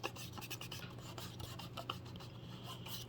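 A finger rubs steadily back and forth on gasket material laid over a Homelite XL922 Super chainsaw's transfer ports, making a soft, continuous, quiet rasping scuff with no talk.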